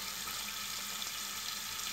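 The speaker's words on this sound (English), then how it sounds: "Sorry for that annoying water sound in the background" Water runs steadily from a tap into a sink in the background of a wet-shaving lather session, a continuous even hiss with no pauses and no one talking.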